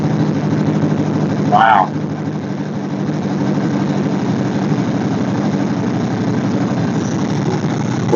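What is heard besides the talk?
engine running after fire-up with a Chinese Holley 2-barrel carburetor copy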